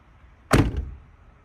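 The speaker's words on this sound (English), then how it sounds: "So now when I close the door," A car door swings shut onto freshly fitted weather-stripping gasket, giving one solid, muffled thunk with a short damped rattle after it, close by and alone in a quiet space.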